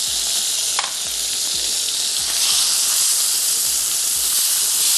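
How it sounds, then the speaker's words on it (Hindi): Freshly chopped garlic frying in a hot pan, an intense continuous sizzle and hiss with light stirring scrapes, close and loud with no talking. "और अब हम इसमें ऐड कर देते हैं फ्रेश गार्लिक, जिसको हमने यहाँ पर पीस लें, चॉप कर लें।"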